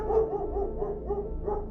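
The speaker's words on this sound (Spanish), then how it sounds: "El perro no dejaba de ladrar y se escuchaba muy cerca de mí" A dog barking repeatedly in a steady rhythm of about seven sharp barks, fairly close and alone, beside a lonely roadside at night near a car's passenger door.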